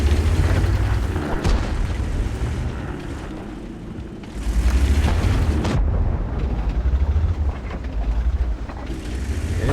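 Tank shells landing and booming in the World of Tanks video game, heavy low explosions with rumbling tails that recur over several seconds amid continuous game noise.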